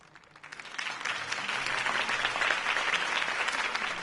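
A crowd applauds after Harvey Dent's campaign speech in the Batman Telltale video game, a dense, steady wash of clapping that swells after a quieter start and holds loud throughout.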